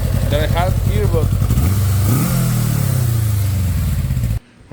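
A 1987 Yamaha Radian motorcycle engine runs and revs, its mid-pitched rumble rising then settling toward idle, while a person talks over the start before the sound cuts off abruptly.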